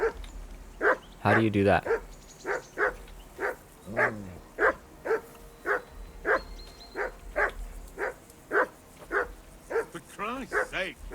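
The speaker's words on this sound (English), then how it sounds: "Henry, hey, call off that nut of yours." A dog barks repeatedly in Kingdom Come Deliverance II, a steady run of sharp barks at even intervals with a couple of longer whining yelps, heard under occasional speech.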